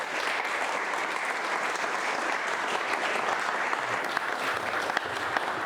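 A lecture audience applauding to welcome a speaker to the stage, dense, sustained clapping from a sizable crowd filling the room evenly from start to finish.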